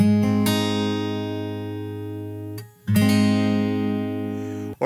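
A guitar chord is swept quickly across the low E, D, G and B strings and left ringing, then briefly muted and struck again with a bright, full attack.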